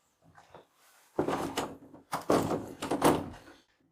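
Police forcing open a door with a man barricaded behind it, heavy thuds and rattling knocks in bursts, close and loud, with a short faint sound before.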